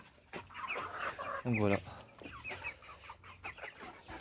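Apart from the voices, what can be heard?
hens clucking on a farm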